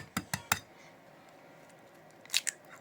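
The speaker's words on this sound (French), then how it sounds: "On prend les œufs, on les casse" Three quick, sharp cracks as eggs are broken on a bowl rim for cake batter, followed by a quiet pause and two more crisp taps near the end, close and clear with no talking.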